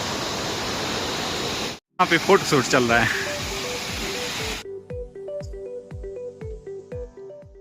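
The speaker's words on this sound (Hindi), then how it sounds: "यहाँ पे बहुत प्यारा सा झरना है" A steady roaring rush of water pours from a waterfall at Pangla, with a river flowing below. It runs loud and continuous, then cuts off abruptly. Someone speaks over it, and music follows.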